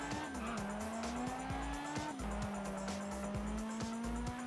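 A McLaren SLR in the driving game Test Drive Unlimited revs steadily under a continuous engine drone, with pitch climbing and dropping through gear shifts and some tire noise, close and constant.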